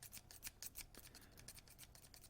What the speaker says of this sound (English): this thing is like jammed into this envelope. And I got to use a scissors